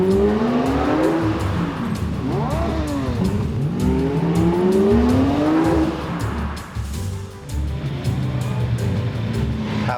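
A Lamborghini Murcielago supercar revs hard while being driven, its loud engine note sweeping up and down in repeated rises, with tyre noise and a brief dip before climbing again.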